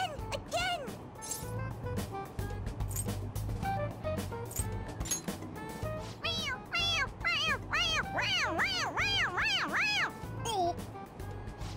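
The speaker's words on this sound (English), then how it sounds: "It meows when you press on its head." A toy cat in the video game Persona 5 Royal gives a run of repeated squeaky meows when pressed on its head, quick and close, one after another, with some rustling and clicks around them.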